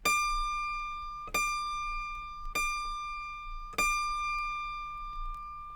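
An autoharp's high C string rings out in four evenly spaced plucks, each clear metallic tone decaying slowly, close and alone without any voice.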